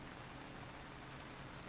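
Steady rain in the video game Misericorde, a soft, even hiss of falling drops continuing throughout with no voices.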